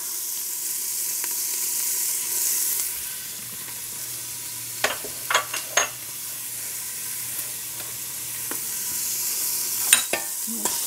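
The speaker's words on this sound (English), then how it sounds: "we're heating the olive oil, and we're going to add to that 1 chopped onion and 2 cloves of garlic" Chopped onion and garlic frying in heated olive oil, a steady sizzle throughout, with a few sharp clatters of a utensil against the pan near the middle and toward the end.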